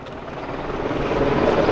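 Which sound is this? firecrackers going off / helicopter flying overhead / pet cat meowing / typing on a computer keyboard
helicopter flying overhead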